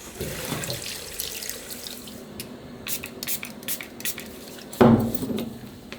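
Tap water runs and splashes into a sink to rinse a wound during first-aid training, a steady close stream with a few drips and clinks, louder splashing near the end.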